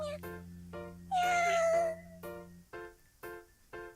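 A cat cries softly from inside a cardboard box in a video game, giving a string of short meows in a steady rhythm, one drawn out longer, over a low background hum.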